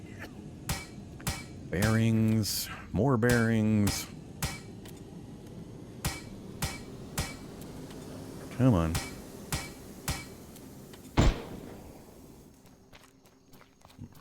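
Hammer strikes ring out while vehicles are repaired in the survival game Plains of Pain, sharp isolated knocks spaced irregularly among clicks and footsteps, with a man muttering briefly now and then.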